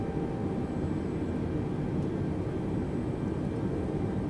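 Airbus A320 engines in Microsoft Flight Simulator spooling up after the throttle is bumped while parked at Gibraltar, a steady, loud broadband roar that holds constant throughout with no talk over it.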